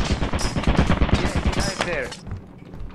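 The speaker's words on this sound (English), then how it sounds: "Turret!" Rapid automatic turret fire in a late-night multiplayer video game, a dense burst of loud repeated shots lasting about two seconds before cutting off into quieter game sound.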